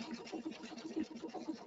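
A computerized sewing machine stitches at a rapid, steady rhythm of soft repeated pulses, close and moderately quiet, with no voices.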